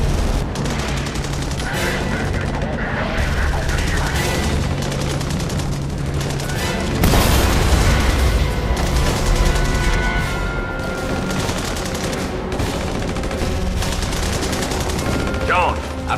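Dense, continuous gunfire from The Saboteur on PS3, rifle and machine-gun bursts with booms and crashes, loud and relentless throughout, with shouted voices mixed in under the shooting.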